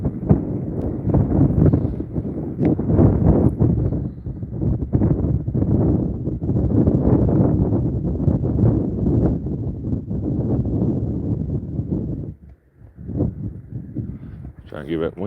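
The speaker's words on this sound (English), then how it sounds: "That wind's terrible." Strong wind buffets the microphone outdoors during rabbit hunting with hounds, a loud, gusty low rumble that rises and falls almost constantly, briefly dropping near the end, under a man's speech.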